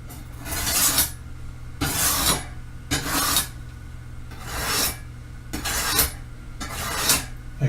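A kitchen knife is drawn across a fine 600-grit whetstone in six steady rasping strokes, each about half a second long and evenly spaced, close up and with no voices.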